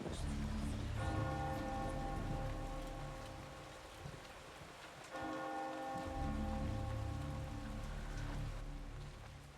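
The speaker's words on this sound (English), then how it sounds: "Should Paul ring the bell anyway?" Deep tolling bell strikes ring out in the video game Eternal Darkness, two long resonant peals over a steady rain-like hiss.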